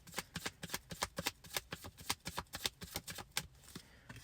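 Tarot cards being shuffled up close, a quick run of crisp riffling snaps and slaps over about four seconds, with no talking.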